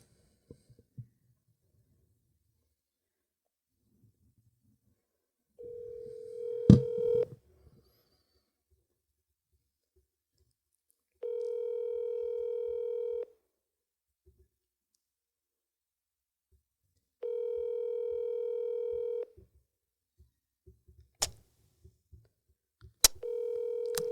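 A phone call is placed: a sharp click, then three evenly spaced steady electronic ringback tones of about two seconds each with long silent gaps, ending with a few soft clicks and handling noises.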